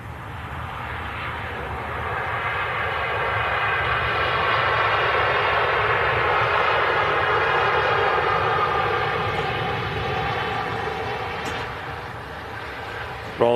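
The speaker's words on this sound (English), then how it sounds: "Rolls-Royce Trent 700 engines reversing, slowing the wide body down smoothly" A wide-body airliner with Rolls-Royce Trent 700 engines lands and reverses thrust, a loud broad roar that swells over several seconds, holds, and then gradually fades as the jet slows.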